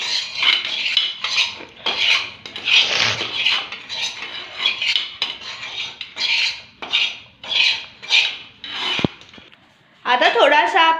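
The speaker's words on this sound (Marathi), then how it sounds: "मी चपाती कट करते" A knife cuts a cooked chapati into thin noodle strips with a steady run of rhythmic scraping strokes against the surface, close and clear, and a voice briefly speaks at the end.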